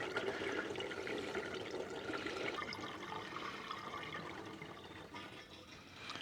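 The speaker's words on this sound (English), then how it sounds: "what I'm doing right now is putting this gallon of antifreeze in" Liquid from a gallon jug of RV antifreeze glugs and splashes steadily into a plumbing line on a 2023 Roadtrek Zion, a continuous close pouring rush with no talk.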